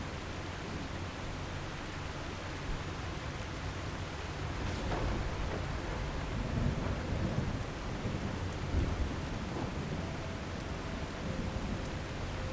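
Storm weather in The Last Caretaker game: a steady wash of heavy rain with deep rolling thunder swelling in the middle and toward the end, continuous and enveloping with no voices.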